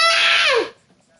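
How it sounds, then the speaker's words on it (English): A child screams loudly and close by in one sustained, high-pitched shriek that falls in pitch and cuts off after about two thirds of a second, leaving near silence. "why are you screaming like that?"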